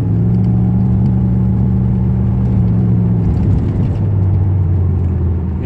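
A car with a failing transmission pulls away from a stop, its engine droning loudly and steadily close by with a low hum that shifts pitch partway through as it labors forward.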